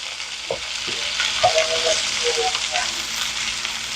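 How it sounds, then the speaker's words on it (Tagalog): Pieces of cut-up beef heart sizzle and fry steadily in a pan for braising, with a few sharper spatters and stirring clinks over the continuous hiss, close up and moderately loud. "Ilagay na natin itong heart na cut up ko. Prituhin lang ng konti."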